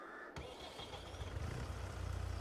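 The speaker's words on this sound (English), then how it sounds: "Your tractor's struggling to take off." A tractor engine in Farming Simulator 22 fires up and labors under a heavy load, its low rumble building and growing steadily louder and rougher toward the end.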